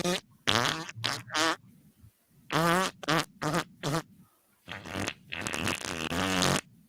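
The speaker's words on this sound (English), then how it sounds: "She farted." A series of loud, buzzy, tonal farts comes in repeated bursts of varying length, close and clear, with brief silences between them.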